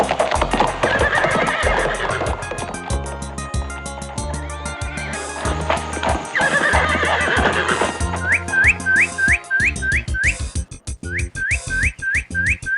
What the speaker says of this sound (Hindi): और तेज दौड़ाओ, घोड़े को और तेज दौड़ाओ।